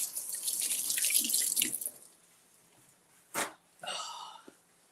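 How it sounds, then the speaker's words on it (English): Tap water runs steadily into a kitchen sink for a hand rinse while cooking an omelet, then cuts off, followed by a couple of brief clatters and splashes. "let me clean my hand"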